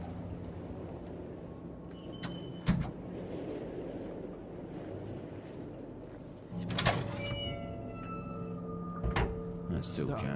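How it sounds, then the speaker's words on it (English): Squeaky doors close in the Conarium game, giving faint creaks and a couple of sharp knocks over a low ambient hum, with a voice speaking quietly throughout. "Doors closing behind me."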